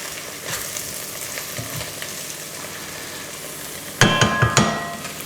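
Thyme and rosemary hit a hot pan with lamb, raising a steady sizzle that flares into louder crackling bursts near the end, with no voices.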